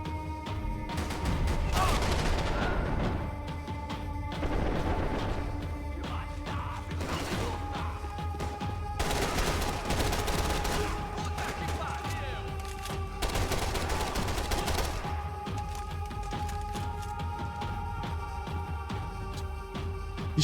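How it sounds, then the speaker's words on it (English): Gunfire in the video game Max Payne 3, including shotgun blasts, with repeated loud shots and bursts of rapid fire over a steady game soundtrack hum for about twenty seconds. "Shotgun av noe slag"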